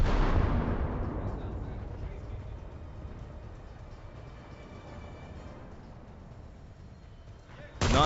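Battleship main guns fire in the naval battles of the video game War Thunder, opening with a heavy booming blast that fades into a long rumbling decay, then another sharp blast at the very end.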